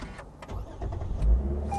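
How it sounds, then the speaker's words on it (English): A 2021 Lexus IS 350 F Sport AWD is started by push button: a low engine crank swells and settles into a steady idle rumble, heard fairly close with no talk. "hit the engine start button"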